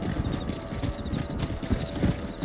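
Several horses gallop in Red Dead Redemption, giving a dense, steady clatter of hooves up close with no voices.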